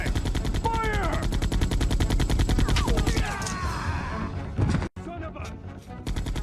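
Rapid gunfire bursts from a Resident Evil game scene, loud dense shots with shouting voices and cries mixed over the first seconds, followed by an abrupt cut and more rattling shots.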